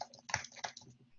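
Keys on a computer keyboard clack quietly in a short burst of a few quick taps, close and soft, while someone types a login.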